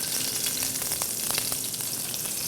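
Butter sizzles in a little hot oil in a pan, a dense, even hiss with faint crackles throughout, close up and without any voices.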